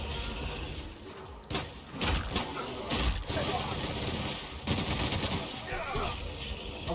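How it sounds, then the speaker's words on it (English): Rapid automatic machine-gun fire in The Outer Worlds sci-fi shooter, dense bursts of shots over a steady combat din with a few sharp louder blasts, with some voices mixed in. "Machine gun!"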